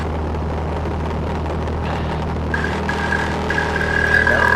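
A light aircraft engine runs at full power during pattern work at Tipton airfield, a steady loud droning roar with a rising whine building toward the end, heard from inside the cockpit with no talking.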